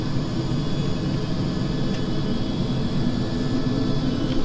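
Airliner jet engines roar steadily during a go-around in the FSX flight simulator, a loud continuous broadband drone with a faint whine and no talk.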